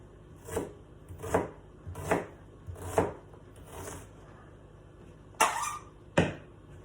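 Knife chopping onion on a cutting board, several evenly spaced thuds about every three-quarters of a second, then a pause and two sharper cuts, close and moderately loud with no talking.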